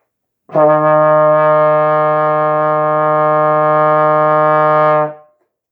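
A trombone sustains a single steady concert E flat in third position, one clean held note of about four and a half seconds with a sharp start and a quick fade.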